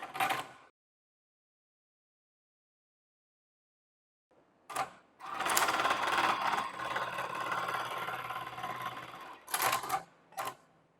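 A Jack JK-T1790 computerized buttonhole sewing machine runs through a stitching cycle: a short burst, a pause of silence, then a sustained rapid mechanical whir of about four seconds, followed by brief trailing bursts.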